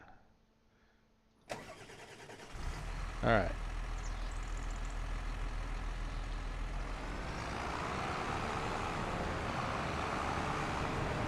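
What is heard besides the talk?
tractor engine in video game Farming Simulator 25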